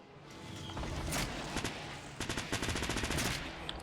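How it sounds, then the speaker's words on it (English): Bursts of automatic gunfire from a bot in Fortnite, rapid cracking shots in several clusters, loud and close, over a steady game background hum with no talking. "as you can see, he's shooting at me"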